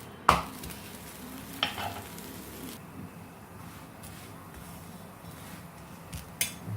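Masala koki, a Sindhi onion flatbread, cooks on a tawa griddle with a steady soft sizzle, broken by a few faint clinks and taps of utensils against the pan.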